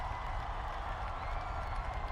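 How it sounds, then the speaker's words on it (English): A football crowd in Tacoma applauds and cheers in a steady, distant roar with a little scattered clapping. The burst is brief. "James Peach takes the top off and gives the Tacoma crowd something to cheer about."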